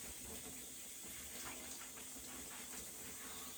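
Shower water runs steadily in a home shower while hair is being rinsed, a continuous hiss and spatter at close range with no talking.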